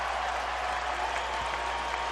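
Basketball arena crowd on its feet during a Lakers vs Raptors game, applauding Kobe Bryant's career-high night; dense, sustained clapping and cheering fills the whole moment at steady loudness.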